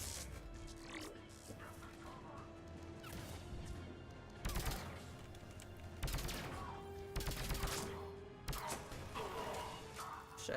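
Gunfire in Mass Effect 3 crackles in repeated sharp volleys and single shots over a busy, rumbling combat background, fairly close and loud throughout.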